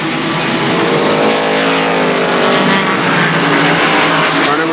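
ARCA SuperCars stock cars race at KilKare Speedway, several engines roaring together in a loud, sustained, dense drone as the cars jostle through the turns.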